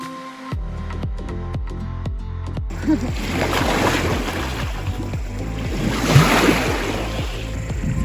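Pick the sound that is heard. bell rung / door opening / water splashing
water splashing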